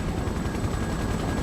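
Helicopters arrive in the World in Conflict video game as a dense, continuous rotor chop, a loud rapid pulsing thud that fills the whole moment with no voices.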